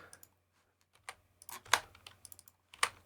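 Keys on a computer keyboard pressed one at a time in an uneven sequence, sharp close clicks separated by short pauses, a couple of louder taps standing out.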